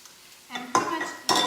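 Sauce poured into a hot pan of vegetable stir fry with mung beans and lemon balm bursts into loud sizzling, with a utensil stirring and scraping, swelling in two surges.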